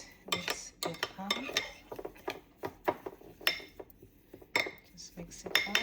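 A spoon clinks and scrapes against a bowl while batter is mixed by hand, a quick irregular run of close knocks and stirs, with a faint voice briefly in the background.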